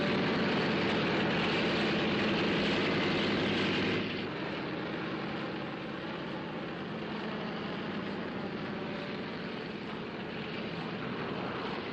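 A propeller airliner's engines drone steadily before takeoff, a dense, continuous roar that drops slightly in level partway through and then holds evenly.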